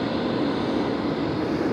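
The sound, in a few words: jet engines at full power at an airport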